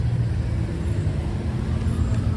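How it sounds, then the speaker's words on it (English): Steady car traffic rumbles through rainy Midtown Manhattan, a constant close engine and road wash with no single vehicle standing out. "these cars will speed up and then you'll see them sitting at the next red light"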